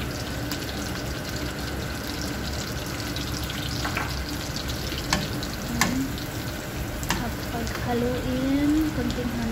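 Chicken being stirred in a hot pan with honey and lemon juice, steady sizzling and frying with occasional scraping clatters of the utensil, while a voice talks over it.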